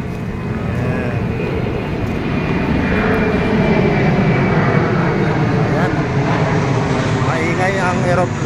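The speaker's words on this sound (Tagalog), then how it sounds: "Ang eroplano." An airplane passes overhead near a busy church area in Baclaran, its engine roar a steady, loud broadband rumble that swells slightly midway, mixed with crowd noise and distant voices.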